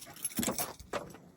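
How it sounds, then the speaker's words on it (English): Keys jangle up close as they are pulled from a truck's ignition, a few quick metallic rattling bursts over a faint idle rumble. "All right, I got my keys."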